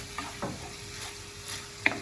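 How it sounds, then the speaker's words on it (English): Beef being stirred around a hot pan with a wooden spoon, a few soft scraping strokes over a quiet sizzle, with one sharper tap near the end. "Just keep moving it around and use a wooden spoon."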